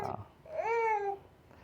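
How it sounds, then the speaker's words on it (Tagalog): A baby babbles happily in a short, close, rising and falling vocal coo lasting under a second, preceded by a brief burst of other sound and followed by quiet. "Yan, ang ingay na ni baby."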